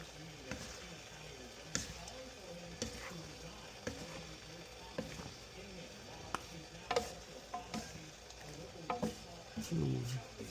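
Pansit noodles being stirred in a frying pan make soft, irregular scraping and clinking sounds over a quiet sizzle, close and fairly faint.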